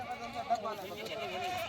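Goats bleat at a busy goat market in Rajanpur, with wavering calls that rise and fall against crowd noise and people talking nearby.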